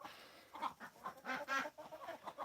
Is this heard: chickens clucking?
yes